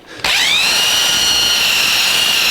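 A power buffer runs continuously on a 1982 Jeep CJ7 hood with rubbing compound, rising from a quiet start to a steady, loud, high-pitched whine that holds up close and alone for over two seconds.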